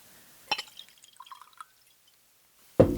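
Chocolate Pear cider is poured into a glass, with a short splash followed by a run of small trickling drips, then a silent pause and a louder burst of noise at the end.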